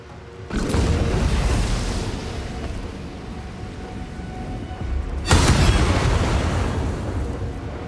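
Two deep booming impacts, one near the start and one midway, sound from the Booming Blade spell attack in Baldur's Gate 3. Each blast swells into a long rumbling wash that lingers.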